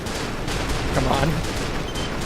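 Dense, rattling gunfire from mech combat in Armored Core V pours out as a continuous barrage under a wash of noisy explosions, loud and unbroken for the whole moment.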